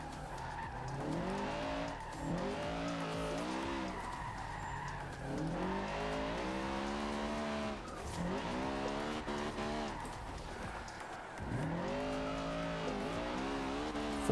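A Honda Civic Type R drifts sideways with wheels spinning in Forza Horizon 2, its engine revving in long rising and falling sweeps over continuous tire squeal, loud and close throughout.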